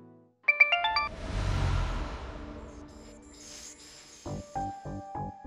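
A short multi-note phone alert tone chimes near the start, followed by a swelling whoosh of background sound and later a few repeated brief tonal beeps, with no talking.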